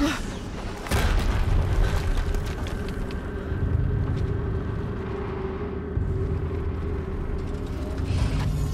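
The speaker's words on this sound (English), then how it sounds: "Another explosion." Heavy explosions in the video game Horizon Zero Dawn, a sharp blast near the start followed by sustained deep rumbling and further booms over a continuous low roar.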